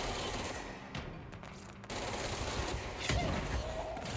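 Gunfire in the video game Control, a dense, continuous rattle of rapid shots heard with game noise, swelling again toward the end.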